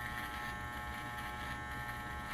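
An electric hair clipper hums in a steady, unbroken buzz as it cuts hair, close and constant with no talking over it.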